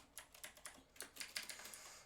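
Fast, faint clicking of a computer keyboard being typed on, a quick run of light key taps in a quiet room with no voices over it.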